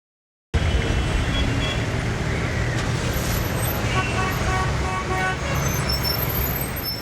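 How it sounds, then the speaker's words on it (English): Rush hour traffic in Kabul, a steady dense roar of cars and buses with repeated car horns tooting over it and a faint voice underneath. "Rush hour traffic is endemic."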